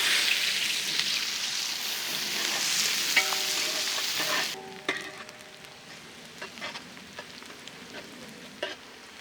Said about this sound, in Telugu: నెయ్యి యాడ్ చేశాక దీంట్లోనే మనం సన్నగా తరిగిన ఉల్లిపాయ ముక్కలు యాడ్ చేద్దాం.